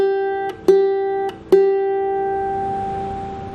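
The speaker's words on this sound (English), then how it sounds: "The high G string sounds like this." A ukulele's high G string is plucked three times, each a clear, bright close note with a sharp attack, ringing on and slowly fading after the last pluck.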